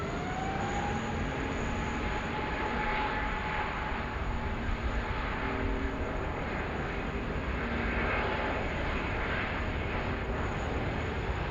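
A UPS Boeing 747 at Sydney Airport during a thunderstorm produces a steady, broad jet-engine roar that stays loud and continuous throughout, with a faint whine riding on top and no talking.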